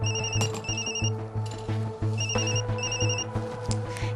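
A phone rings loudly and close, an electronic ringtone of repeated tones with a steady pulsing pattern that runs through the whole stretch, with no talk.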